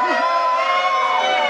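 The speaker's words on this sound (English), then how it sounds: "Can everybody scream?" A large rally crowd screams and cheers together in one sustained, loud roar that holds steady without a break.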